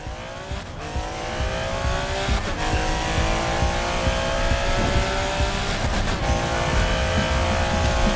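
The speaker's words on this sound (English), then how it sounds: "This is a weird engine tone though." Engine of a tuned car in the Racing Master racing game revs high and steady, a loud continuous drone with slowly climbing pitch and brief dips at gear shifts, with no talk over it.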